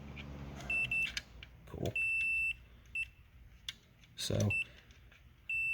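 A multimeter gives short, high electronic beeps, some repeating and some held, while testing the contacts of a Whirlpool dryer timer. Quiet talk and handling noises come in between the beeps.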